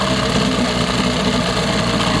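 A 1988 6hp Johnson Evinrude outboard motor with new plugs idles at low throttle, a loud, close, steady rattling hum with no talk over it.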